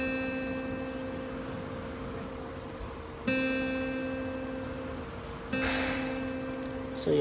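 An acoustic guitar sounds a single note on the second string at the first fret, plucked three times. Each pluck rings out clearly and sustains before the next, close and alone without talk.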